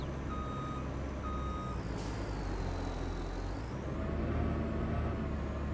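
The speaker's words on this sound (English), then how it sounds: "I like this wheel loader." Wheel loader reversing on a farm in Farming Simulator 22, giving a steady series of evenly spaced reversing beeps over a low engine drone, with a brief hiss of air partway through.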